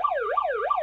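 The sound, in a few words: siren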